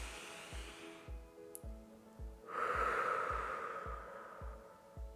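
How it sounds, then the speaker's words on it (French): A long, deep meditation breath rises as a loud airy rush over soft rhythmic background music, then fades. "Je vous invite à chaque début de méditation de prendre 3 grandes respirations."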